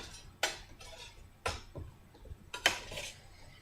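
Baked steak fries are flipped over on a silicone baking sheet, giving a few sharp clacks and scrapes spaced about a second apart against a low kitchen hum.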